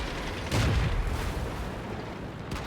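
Tank cannon fire in World of Tanks from a WZ-131: a single loud, close boom near the start, followed by a rumbling tail over steady background noise.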